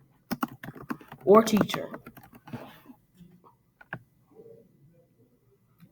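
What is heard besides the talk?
typing on a computer keyboard into a text box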